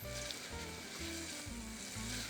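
Garlic sizzling in a hot pan, being stirred with vegetables for a roasted side dish; a steady, loud crackling fry runs throughout, with stirring scrapes and bumps at a regular pulse.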